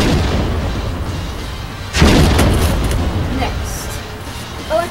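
A pumpkin bomb goes off with a single loud, close boom about two seconds in, followed by a rumbling, hissing tail and a smaller pop at the end, against steady background noise.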